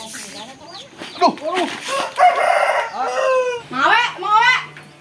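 A rooster crows repeatedly among clucking chickens at a village home, loud and close, with people talking over the birds.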